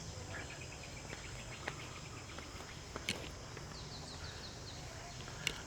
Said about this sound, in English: This is the first time I've encountered bugs since I've been here.